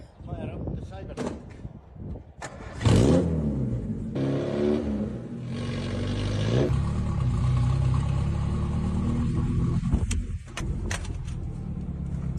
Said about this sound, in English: Fire up the cyber truck.